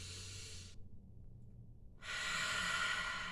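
Deep, slow breath drawn in and let out as a steady airy hiss during a tension-release exercise, close and fairly quiet, with a brief pause of near-silence between breaths.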